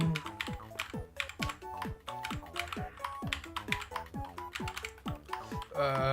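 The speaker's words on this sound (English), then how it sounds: "my keyboard is just as loud as my talking" Fast, loud clattering keystrokes on a computer keyboard, close up, in quick irregular bursts with a few pauses, while a voice talks over the typing.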